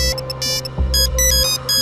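Another old mobile phone ringtone plays, a bright electronic melody of choppy repeating beeps over a steady low hum, moderately loud and continuous.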